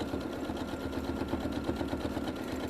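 A sewing machine runs steadily during free motion quilting, a fast rhythmic stitching chatter with a low motor hum throughout.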